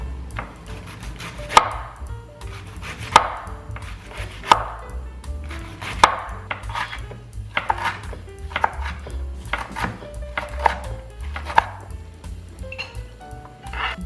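A knife finely chops cabbage on a board, giving crisp, close strikes roughly every second and a half with lighter cuts between them and no talk.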